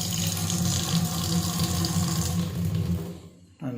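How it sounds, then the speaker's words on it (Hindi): Water gushes steadily from an opened tap in a newly built five-marla house, a close, continuous rush that cuts off near the end. "ये टूटी भी खोल कर देखते हैं।"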